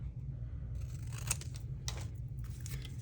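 Scissors cutting paper at a desk while making junk journal ephemera, a few close crisp snips and slicing rasps over a steady low background hum.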